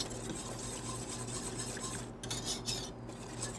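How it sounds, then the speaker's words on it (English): Alfredo sauce warming in a pot is stirred with a utensil, giving a steady soft scraping and clinking against the metal, close and continuous with no talk. "Make sure you kind of stir the sauce every now and then"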